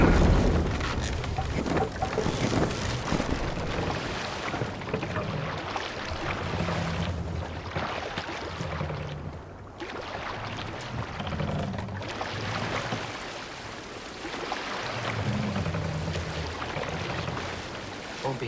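A Viking longship in Assassin's Creed Valhalla moves across open water, with steady wash, wind and splashing, broken by low rhythmic thumps, loud and continuous throughout.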